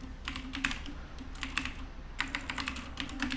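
Fingers tap on a computer keyboard in quick bursts of clicking keystrokes with short pauses between, close and fairly soft, no talking.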